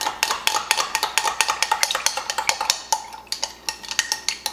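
Spoon stirring cornstarch and water into a slurry in a small dish, a quick run of close clinking taps and scraping that slows and thins toward the end, no talk.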